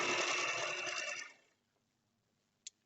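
A sewing machine stitches a simple pillow, a steady close whirring run lasting over a second before stopping, followed by quiet and a single short click.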